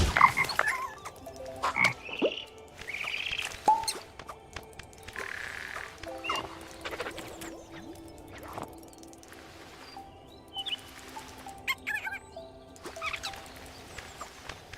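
Frog croaks in a video game, a string of short calls and squelchy chirps scattered across the stretch with other small game effects between them, no voices.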